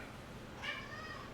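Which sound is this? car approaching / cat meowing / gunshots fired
cat meowing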